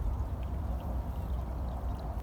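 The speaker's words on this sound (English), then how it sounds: "this is where the water comes right out of the side of the mountain" Water flowing out of the side of a mountain, a steady close pouring and gurgling rush with a low rumble beneath, continuous and fairly loud without a break.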